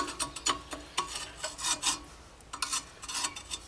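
Close, rhythmic rasping and scraping as a groove is cleaned out on a part for a Wheel Horse 753 garden tractor, short strokes repeated with brief pauses.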